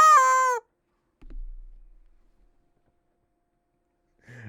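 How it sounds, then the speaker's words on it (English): A rubber chicken toy gives one short, loud squawking squeal, followed by a brief low thump and a faint scuffle a few seconds later. "so I grabbed the rubber chicken"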